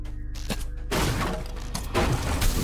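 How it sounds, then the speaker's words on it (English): Dense, continuous bursts of weapon fire and impacts against an enemy in the online game DDO, loud and layered, with a brief dip before the barrage swells again. "I'm just shooting away at that guy and nothing's happening"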